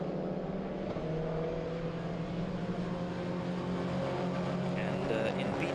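Renault Clio race cars circulating at Oschersleben during an ESET Cup race, a continuous steady engine drone held at middle distance, with a commentator's voice running over it.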